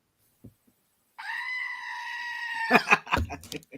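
A goat bleats in one long, wavering cry held for about a second and a half, loud and close, followed by a few short bursts of noise and thumps; no one talks over it.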